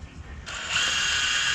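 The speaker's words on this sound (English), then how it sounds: "we're literally we're driving the oil pump with the drill" A power drill spins a ranch truck engine's oil pump, kicking in abruptly into a sustained, even mechanical whine that holds steady and loud to the end.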